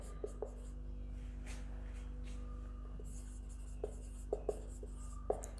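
Chalk or marker scratches across a board during a physics lecture on electric intensity, faint intermittent strokes and taps over a steady room hum, without speech.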